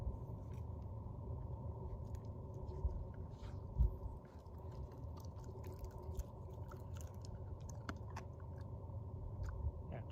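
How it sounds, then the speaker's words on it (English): A dog chews a stick outdoors on a mountain trail, giving a steady close-up crunching and gnawing over a low rumbling background, with scattered small cracks and one louder thump near the middle. "chew on a stick"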